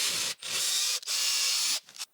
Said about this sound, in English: Next up, an M4 thread to do the clamping screw